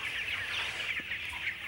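Hens cluck in an open farm shed among many other birds, a steady, fairly faint chorus of clucking with the flock audible throughout.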